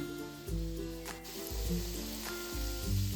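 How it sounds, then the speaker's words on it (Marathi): Coriander vadi shallow-frying on one side in a pan, a continuous close sizzle of hot oil over a low hum, with a few faint clicks and no speech. "आता ह्या वड्या आपण एका बाजूनेच फ्राय करून घेणार आहोत"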